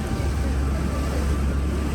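An Alleppey houseboat cruises the Kerala backwaters in the evening, giving a steady low engine rumble with wind buffeting the microphone and water noise, continuous and fairly loud throughout.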